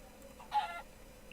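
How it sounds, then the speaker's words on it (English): A chicken in a Minecraft world gives a single short, faint cluck over a quiet, low background. "There's the chicken there."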